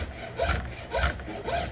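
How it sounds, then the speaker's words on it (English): A wood file rasps across a knife handle in slow back-and-forth strokes, three rough scraping passes close by with no talking. "And this is a wood file made for wood."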